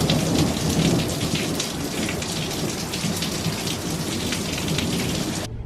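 Heavy rain pours steadily on surfaces during an Arizona storm while thunder rumbles low underneath. The dense, constant hiss stays loud from start to finish.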